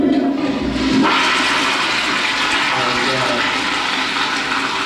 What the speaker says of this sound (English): Flush mounted toilet.